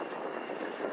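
RAF Tucano turboprop aircraft engine roars steadily during a display flight at Waddington, a distant sustained drone with a slight rising whine and no talk.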